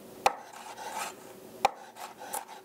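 A knife chops habanero pepper strips on a cutting board, with two sharp, isolated taps about a second and a half apart. They are quiet and close, with faint rustling between the taps.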